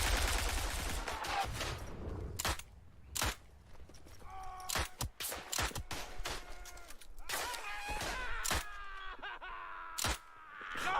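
Video game gunfire crackles in sharp, loud bursts and scattered single shots across a busy gamescom studio broadcast, with moaning and groaning voices and background noise between the shots.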